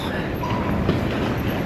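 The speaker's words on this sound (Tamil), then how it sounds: "நம்ம எம்ஆர்டி ஏரியா வந்திருக்கோம், ஹார்பர் ஃபாண்ட் ஸ்டேஷனுக்கு வந்திருக்கோம்" An MRT train at Harbourfront station in Singapore, a steady loud rolling rumble of rail cars running through the station, continuous throughout with a faint tonal whine.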